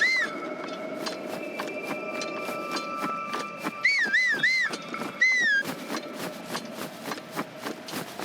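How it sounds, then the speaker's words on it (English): In Breath of the Wild, the player character whistles a few short, wavering rising-and-falling tones over game ambience with steady rhythmic clip-clop footsteps and a sustained background tone. "Whistle, whistle, whistle."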